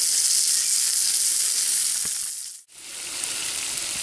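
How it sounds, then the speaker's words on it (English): Bread sizzles steadily in a pan over a campfire, a constant bright frying hiss that briefly dips for a moment before carrying on. "Now we fried up some bread in the pan"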